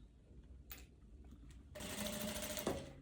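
Sewing machine stitching a sleeve into the armhole of a viscose jumpsuit, a short close burst of fast, steady needle running after a moment of fabric handling.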